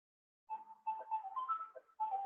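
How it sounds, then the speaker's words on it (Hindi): A phone ringing with a melodic ringtone, a daily call from a company arriving at its fixed time, plays in clear bursts of electronic notes after a brief silence, moderately loud and alone. "ये कंपनी वाले डेली इस टाइम पे फोन करते हैं, ये इनका फिक्स टाइम है"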